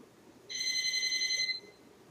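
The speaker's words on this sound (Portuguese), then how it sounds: "O telefone tocando aqui no estúdio" A telephone rings in a studio, a single electronic trill of about a second, clear and moderately loud against a faint background hum.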